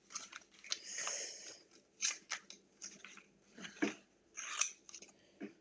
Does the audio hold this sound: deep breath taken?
no